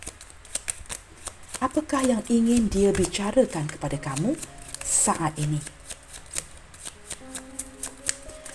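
Tarot cards are shuffled during a card reading, with a continuous close riffling and rustling running under someone speaking throughout.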